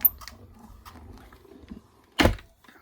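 A card run through an embossing and die-cutting machine, a soft low grinding crank followed by one louder, heavier rumbling pass near the end, close and without talk.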